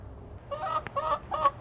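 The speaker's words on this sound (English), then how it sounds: "I'm near my chicken right now and she wants me to give her special treats, so she's going to interrupt" Pet hen clucking insistently for treats, a few short throaty clucks and a brief squawk in quick succession, close by and moderately loud, with no talking.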